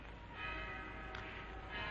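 A town carillon's church bells ring out a steady melody, heard faint and continuous in a 1938 film soundtrack, with no talking over it.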